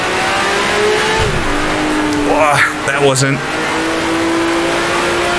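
Race car engine in the Grand Prix Legends game during the 1966 Italian Grand Prix, a steady drone that rises through a shift then revs with skidding, while someone talks over it.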